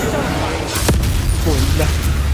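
A Bombarda blasting spell goes off in Hogwarts Legacy: one sharp, booming burst rises over a steady bed of game noise, and a voice talks around it.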